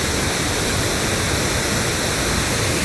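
Loud, steady rush of a waterfall on a monsoon trip near Ranchi and Netarhat, broadband and unbroken throughout with no voices.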